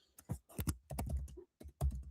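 Computer keyboard typing while filling in an online form, bursts of rapid close key clicks separated by short pauses.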